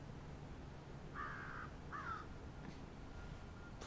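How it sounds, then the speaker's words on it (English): A crow caws twice in a row, the calls harsh and moderately close, standing out over a steady outdoor background hiss with no talking. "Fucking crow."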